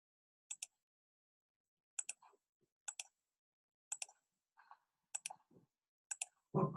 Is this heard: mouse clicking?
yes